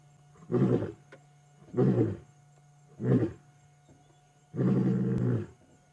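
A male lion on safari at sunset gives four deep, loud roaring grunts, close by and evenly spaced, with the last one longer. A faint steady hum runs underneath.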